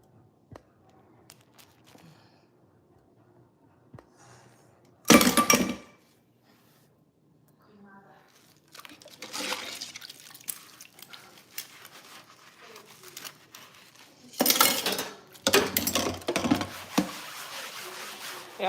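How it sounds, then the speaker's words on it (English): Two plates are washed up with water at a kitchen sink: quiet rubbing and clinking build into louder bursts of running, splashing water, close and intermittent, with soft scrapes in between. "So I wash up 2 plates."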